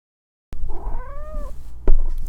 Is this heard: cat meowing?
yes